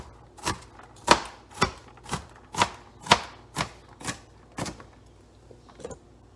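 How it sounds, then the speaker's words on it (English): A knife chops white onions finely on a cutting board, with about eleven sharp, evenly spaced, close thuds in a steady rhythm. "So I'm just going to run a knife through them and show you how I chop these fine."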